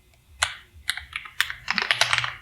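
Code typed quickly on a computer keyboard: crisp, close key clicks that start as scattered taps and speed into a dense run, with no talking.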